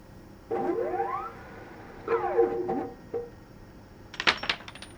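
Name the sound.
coins dropping in Colossal Cave video game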